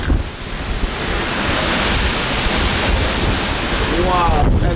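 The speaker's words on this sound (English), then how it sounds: "these are 15 to 20-foot waves" Heavy ocean waves of 15 to 20 feet surge around a ship bound for the Falkland Islands, a constant loud roar of surf and buffeting wind, with a brief voice near the end.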